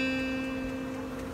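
A guitar note on the second string, first fret, rings steadily and fades slightly over a moment, heard close and alone.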